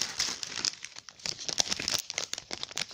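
Paper ephemera pack from a woodland-themed card kit being folded and emptied, with continuous close crinkling and rustling of paper pieces shaking out, loud and alone.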